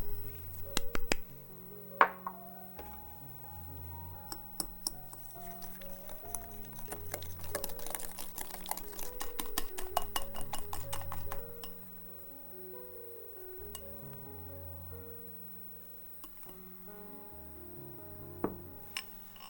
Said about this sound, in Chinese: 蛋黄中加入细砂糖搅匀